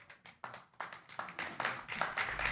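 A local crowd applauds at a 10-ball doubles pool match, scattered claps building into steady, moderately distant applause, with no talking.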